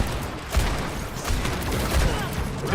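Rapid overlapping gunfire in the Overwatch video game, a dense continuous burst of shots with heavy low thumps, loud and close, with no pauses over a short stretch.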